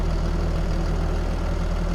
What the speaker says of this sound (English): I'm just going to run back over to the tractor and turn that off because it is quite noisy